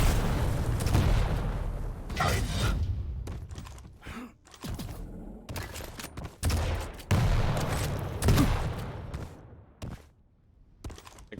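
Rocket explosions in a video game fire as a rapid series of booming blasts, loud and close, with short gaps between bursts and a quieter stretch near the end.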